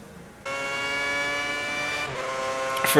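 High-pitched whine of a Formula 1 car engine in the F1 2010 video game, on a qualifying lap in Bahrain, bursting in after a quiet start and holding steady at high revs, with a brief shift dip and a harsher rise at the end.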